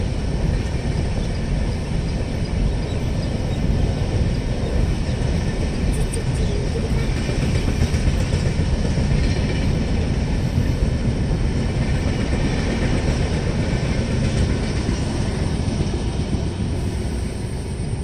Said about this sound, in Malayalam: തീവണ്ടി വരുന്നുണ്ട്.